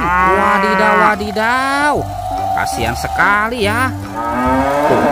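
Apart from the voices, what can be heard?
cow mooing, from a toy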